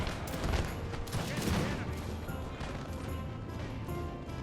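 Artillery and musket volleys in the Napoleonic Total War: Napoleon video game crackle in a dense, continuous fusillade of overlapping booms and pops, loudest early on, with a faint voice now and then.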